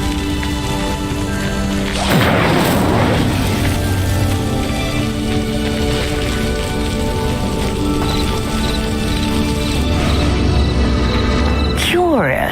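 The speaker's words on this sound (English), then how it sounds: "Incendio! Merlin's beard! The flames make the pyre sink." A fire spell blazes against a pyre in the Hogwarts Legacy video game, a steady crackling, rain-like hiss of flames that runs the whole time, with a swelling whoosh near the start and magical sweeps toward the end.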